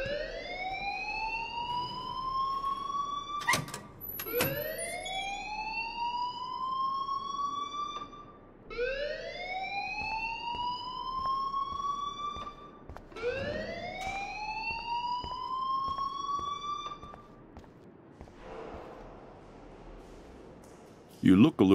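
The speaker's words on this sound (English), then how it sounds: "please turn off that alarm since that's your job" An alarm blares in the Life is Strange game, a loud electronic wail that sweeps upward about five times in steady repeating cycles, with a low background rumble beneath it.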